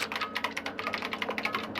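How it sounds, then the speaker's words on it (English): Keyboard typing sound effect from the video game Danganronpa, a rapid, even run of crisp key clicks carrying on steadily throughout, close and clear with no talk. "Kyoko's fingers glided across the keyboard"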